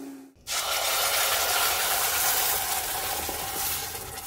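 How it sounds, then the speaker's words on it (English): A kitchen blender grinds cumin seeds and black peppercorns for enchiladas, starting abruptly after a brief pause and then running as a loud, continuous whirring roar with a gritty rattle throughout. "And now I'm going to blend this."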